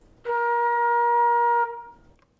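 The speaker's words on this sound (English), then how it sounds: "Flutes, we play in B flat a lot." A single sustained flute B flat note rings out clearly for over a second, then stops, leaving a brief quiet tail.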